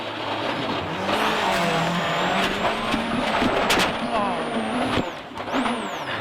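A Citroën rally car driven by Chris Atkinson during a 2009 World Rally Championship event, its engine roaring steadily with pitch shifts and brief tire or brake noises, loud and close, with a commentator talking over it.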